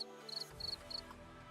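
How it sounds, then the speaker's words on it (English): A cricket chirps in three short, evenly spaced trills over a quiet hum indoors, faint and alone with no talking. "You made a cricket noise in the screen, didn't you?"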